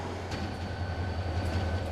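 Trains rumble steadily through a rail depot in Susaek, Seoul, a continuous low mechanical roar with faint metallic clatter and hum, close and unbroken, no voices.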